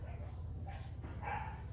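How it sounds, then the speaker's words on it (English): Dogs bark outdoors at a distance, a few faint yaps carried over a steady low background hum, with no one talking at the moment. "You hear dogs."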